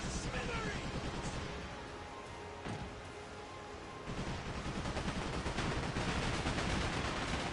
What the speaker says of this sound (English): the machine guns are nice